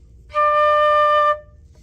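A single sustained flute note D, clear and steady, held for about a second against a quiet background with no talking.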